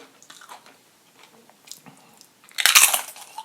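Tortilla chips crunched and chewed up close at a Tex-Mex mukbang meal, with faint mouth sounds first, then a loud burst of crisp crunching near the end.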